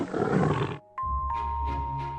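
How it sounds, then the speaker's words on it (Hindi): A tiger gives a loud, fierce roar from behind dense bushes near a snowy riverbank. The brief roar cuts off abruptly and is followed by sustained, chime-like musical tones. "तभी किनारे की घनी झाड़ियों के पीछे एक भयंकर गर्जना सुनाई दी"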